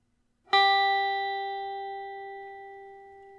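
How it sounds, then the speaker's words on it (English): After a short silence, a single high guitar note is plucked on the first string at the third fret, ringing clearly and decaying slowly over a few seconds, with nothing else heard. "place it on the 3rd fret of the 1st string, E. It should sound like this"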